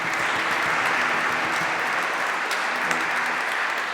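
An audience at a book launch applauds, a dense, steady wash of many hands clapping together that holds evenly for the whole stretch.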